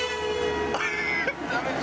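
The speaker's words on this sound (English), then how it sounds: "Some honking going on." A horn on the road blares in a long, sustained, steady honk with a slight change in pitch partway through, loud and continuous for the whole stretch.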